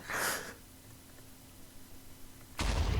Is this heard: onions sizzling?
no